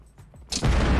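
A bomb goes off in CS:GO Danger Zone: after a few faint clicks and quiet game sounds, a sudden loud boom bursts in and is followed by a sustained roaring rumble.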